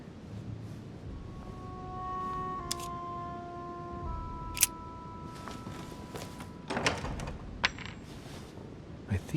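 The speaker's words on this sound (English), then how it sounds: "A metallic sound, like a key falling to the floor." A metal key drops to the floor in a video game, giving a short bright clink with a few bouncing rings against a quiet background, followed by other faint thuds and small clicks.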